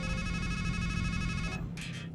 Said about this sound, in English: Let's make a call